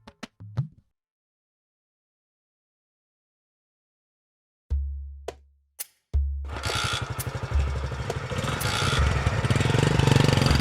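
A motorcycle is started after a few knocks and thumps, then its engine revs and runs steadily, growing louder and rougher as it is ridden off, with no talking.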